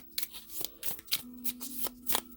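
Tarot cards are handled and one is pulled from the deck, giving a quick series of soft papery riffles and snaps, close and fairly quiet, with no voice over them.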